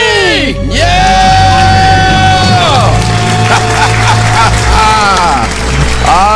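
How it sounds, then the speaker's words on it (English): A studio host and caller on a live personal-finance radio show let out a loud celebratory scream of being debt-free, voices yelling and whooping over cheering and background music. "Let's hear a debt-free scream"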